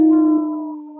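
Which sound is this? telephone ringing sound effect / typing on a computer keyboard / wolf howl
wolf howl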